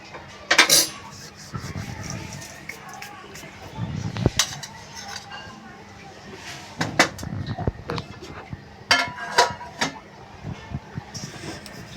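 Flour dough for wheat flour chakli mixed in a bowl, with scattered clinks and scrapes of utensil against the bowl and soft mixing rustles, a voice talking in between.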